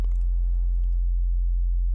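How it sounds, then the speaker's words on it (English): A synthesizer sine wave plays a steady low F note, a pure continuous hum that holds at an even level for the full two seconds with nothing else alongside it. "if we pull in a spectrum onto our sine wave right here and we play like a low F note"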